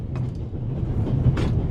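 Steady low rumble of a train rolling along rails in the video game The Raven, a continuous close drone with faint rattling on top and no talking.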